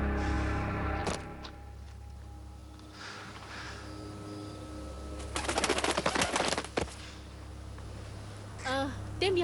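Pigeons coo in soft, repeated low calls, mixed with other bird sounds under a steady background hum, while voices talk over parts of the scene.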